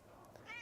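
Medium-haired color point cat giving a short, faint meow at close range, with a gentle rising tone at the end and no other sounds around it.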